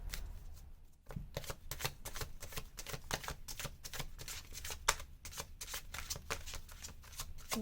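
Tarot cards being shuffled by hand, a rapid steady riffling of crisp papery flicks close by, continuing evenly throughout with no talking.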